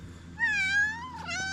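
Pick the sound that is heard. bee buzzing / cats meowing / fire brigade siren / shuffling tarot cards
cats meowing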